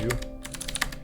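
Rapid typing on a computer keyboard while entering a root command on a NixOS Linux system, a dense run of close, quick key clicks over a steady low hum.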